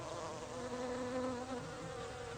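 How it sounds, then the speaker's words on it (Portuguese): Bees, flies and wasps buzz in a dense, steady drone around a flowering climbing plant where they land for nectar, the sound continuous and close with no voices. "verá que são locais de tráfego intenso de insetos"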